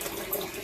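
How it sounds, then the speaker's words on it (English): Water running from a tap into a container, a steady soft hiss and splash that holds even through a short stretch, close by and alone. "I am filling up some water"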